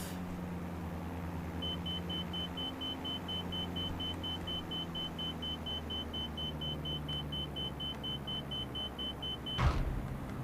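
An aircraft lands in Microsoft Flight Simulator 2020 with the power pulled all the way off. A steady low engine and rolling rumble runs under a thin, constant high whine, then one sharp, loud thump marks a hard touchdown near the end.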